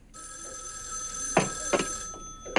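A telephone rings in the 1974 horror film Black Christmas, a continuous electric bell trill with a bright steady tone, overlaid by a few short louder knocks or clatters.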